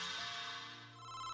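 An incoming phone call rings as an electronic ringtone, a sustained tonal chime that fades briefly and then swells again, fairly clear and without talking.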